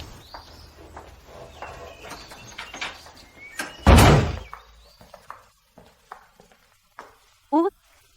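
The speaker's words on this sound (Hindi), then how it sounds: "मैं दरवाजा बंद कर रहा हूँ।" A door shuts with a single loud thunk in a home, preceded by voices and followed by quieter footsteps and small knocks as people keep talking.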